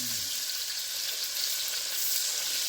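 Meat fries in a hot pan on the stove for a Hoppin' John dish, giving a loud, steady, close sizzle that continues without pause and without speech.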